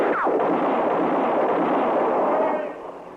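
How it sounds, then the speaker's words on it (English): Gunfire rolls through a radio western drama as a dense, loud, sustained rumble of shots lasting about three seconds, then fades off at the end. "Just keep firing, Chester."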